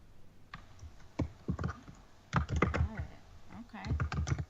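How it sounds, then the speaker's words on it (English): Rapid keyboard typing in bursts of clicks and clacks, fairly close, with pauses in between as notes are taken. "What are you typing down there?"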